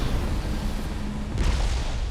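Deep rumbling blast from a magic explosion in The Elder Scrolls Online, a loud, sustained low roar with a fresh surge of noise swelling partway through, with no talking over it.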